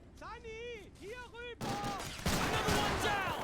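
Gunfire in a WW2 video game mod, a burst of rifle and machine-gun shots clattering together after a short stretch of a voice talking.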